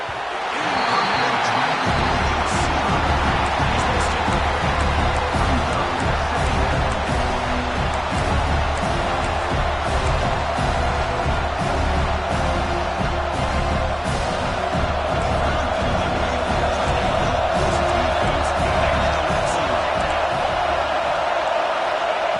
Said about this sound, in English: this home crowd is firing up and ready to make a difference today